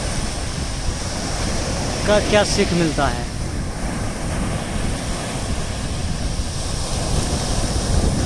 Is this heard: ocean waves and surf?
yes